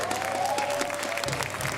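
Crowd applauding at the Clash Royale League World Finals 2023 esports event, a dense sustained clatter of clapping that fills the clip at steady loudness, with a faint tonal line drifting through the first part.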